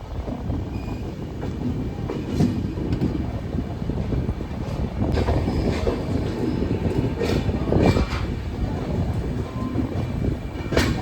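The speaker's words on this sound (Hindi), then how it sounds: "तो ट्रेन धीरे धीरे रफ्तार पकड़ ली है।" A passenger train on the Kolhapur-Siliguri route near Nagpur gradually gathers speed, a steady loud rumble of wheels on rail with rhythmic clatter and occasional squeals, heard close from on board.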